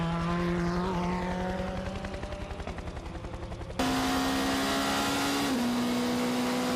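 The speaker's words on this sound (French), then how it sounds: "la Porsche numéro 88 au ralenti" A Porsche race car, number 88, creeping slowly at the 24 Hours of Le Mans 2020, its engine a loud, low, throbbing idle with a rapid pulsing rhythm, then a sudden shift to a steady higher drone, with no voices.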